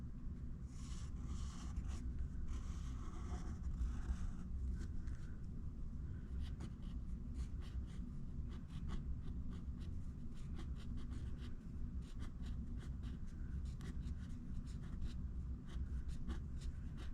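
Pencil or pen drawing on paper in steady, quiet scratching strokes with soft rubbing and small taps, close and faint, no voices.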